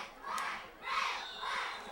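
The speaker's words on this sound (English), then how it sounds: "crowd's getting so pumped up" Spectators at a high school football game yell and cheer in rising and falling waves, a distant crowd roar surging three times.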